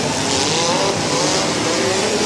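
Mini cars accelerate hard at the Fayette County fall derby, a loud, continuous roar of several engines with rising whine and broad rushing noise that holds steady across the whole stretch, close by, with no voices.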